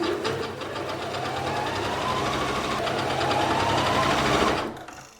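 A sewing machine stitches a long maternity skirt in one continuous rapid run, a steady mechanical whir with a rising pitch that stops abruptly near the end.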